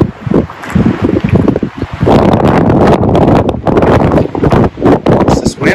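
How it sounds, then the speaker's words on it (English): Gusty wind buffets the microphone at a campsite on the John Muir Trail in the Sierra, loud and rumbling in uneven surges with rustling, and no clear voices. "Wind would die down"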